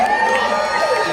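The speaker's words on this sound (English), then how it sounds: "let's cheer for the fact that, you know, there was the Eisner win" Audience at a Wonder Woman comic convention panel cheering and whooping, a dense crowd roar held steady and loud from start to finish without talk.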